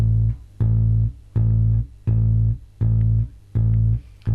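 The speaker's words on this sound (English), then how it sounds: "So that's a fretted A That's fretted A." A bass guitar repeats a fretted A on the fifth fret of the E string, six evenly spaced plucked notes with deep, full low tone, close and alone.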